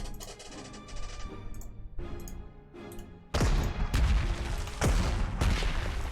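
Gunfire and artillery from the strategy war game Panzer Corps, set in the 1939 Taipale battle: a dense fusillade of repeated loud shots and booms, intensifying into heavy blasts midway, with no talk.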